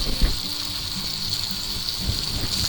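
Butter sizzling in a hot pan beside a steak on a burner turned down to medium-low, a steady bright frying hiss with occasional soft pops and light clinks of a utensil.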